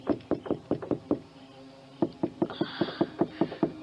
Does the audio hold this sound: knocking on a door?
yes